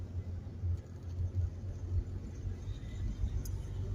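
Steady low rumble inside a car driving at night, a continuous engine and road drone with slight surges, heard alone without talk.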